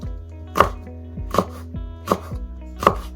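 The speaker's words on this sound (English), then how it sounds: "chop them up like that size" Knife chopping vegetables for a dry sprouts curry (baazi) on a cutting board, four sharp, evenly spaced chops about three-quarters of a second apart, close and clear with no talking.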